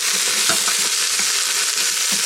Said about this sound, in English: once these are showing a bit of brown, the veggies all go in just like that